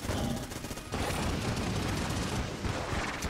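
Dense, continuous rapid-fire gunfire from a Vulcan cannon in the video game Enter the Gungeon, a loud sustained burst with a short dip near one second before the firing resumes.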